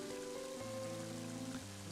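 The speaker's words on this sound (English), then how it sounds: "It really did start raining." Rain in the video game Mother 3, a soft steady patter and hiss laid under sustained musical tones, quiet and continuous throughout.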